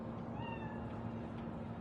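Cat in Cyberpunk 2077 giving a single brief, rising meow, faint beneath a steady hum of game ambience.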